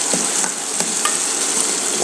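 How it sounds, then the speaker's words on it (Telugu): Onions sizzle and crackle steadily in hot oil in a pan for Nellore-style gongura pickle, with occasional stirring scrapes, close and continuous. "ఆనియన్స్ ఎక్కువ ఫ్రై అవ్వకూడదు, కొద్దిగా పచ్చి పచ్చిగానే ఉండాలి"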